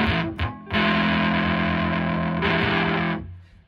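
An electric guitar played through a Big Muff fuzz pedal into an amp rings out as a thick, sustained distorted chord after a couple of short stabs, holding loud and close for several seconds before fading out, with no talking.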